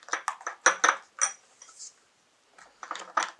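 Clinks and scrapes of a utensil stirring an egg yolk face mask mixture in a bowl, a run of sharp close taps with a short pause partway through.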